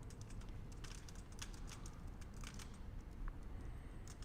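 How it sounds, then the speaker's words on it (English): Steady clicking of keys on a computer keyboard, quick irregular taps in a quiet room, faint and close with no voices. "I'm typing."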